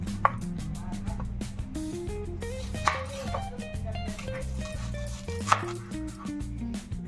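Onions and vegetables are chopped with a knife in a steady run of quick, close chops on a board, with a few sharper knocks and a constant low hum underneath.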